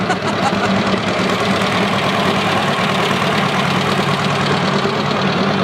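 Several John Deere tractor engines idle steadily at close range during an outdoor Christmas parade, a low continuous rumble with a mild knocking pulse and no talk over it.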